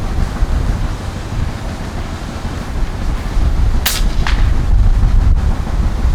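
An FX Impact M3 air rifle with an 800mm barrel is fired outdoors in gusty wind. A single sharp crack is followed by a fainter second snap, all over a heavy rush of wind noise.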